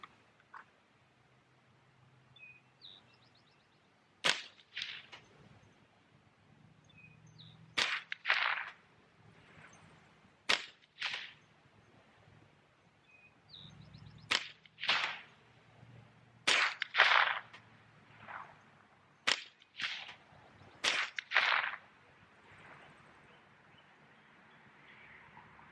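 A .22 caliber rifle firing white super tracer rounds outdoors, about a dozen sharp cracks spaced irregularly a second or few apart, each a crisp snap with a short echo against a quiet background.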